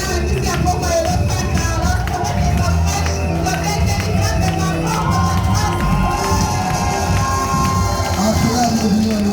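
A large crowd at a church convention cheers and shouts continuously, with whoops and children's voices mixed into a dense, loud, sustained roar.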